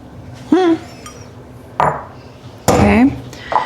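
Dishes clink and knock as a hot bowl is set down and handled, three or four sharp contacts spread across a few seconds, with a voice speaking between them.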